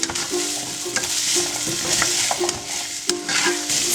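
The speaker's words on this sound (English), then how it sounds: "So your celery, carrots, and onion all go in there, and just start sweating those veggies out" Chopped celery, carrots and onion sweat in a hot pan, giving a steady sizzle close up, with repeated scraping and stirring strokes of a utensil against the pan bottom.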